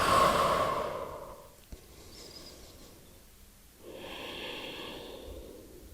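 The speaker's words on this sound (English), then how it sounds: "Deep breath." Deep, slow breathing during a Pilates stretch in child's pose: a long exhale at the start and a fuller breath near the end, close and moderately loud, with no talking.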